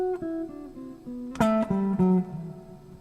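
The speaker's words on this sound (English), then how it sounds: "When I hit the D string, I get this weird ass overtone out of the amp." Several plucked electric guitar notes ring out through an amp, one bright strike on the D string midway flaring with a harsh, buzzing overtone from the amp that sustains and slowly fades.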